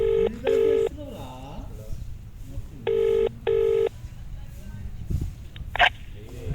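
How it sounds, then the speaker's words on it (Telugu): A telephone call is dialed with two pairs of sharp, steady electronic tones separated by a pause, and a quiet voice murmurs between them in a small room. "అన్నకు కాల్ చేసి నేను మాట్లాడతా"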